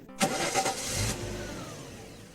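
A car engine cranks in a quick stuttering burst, coughs briefly and then dies away without catching, leaving a fading rumble; close and fairly loud, with no talking over it.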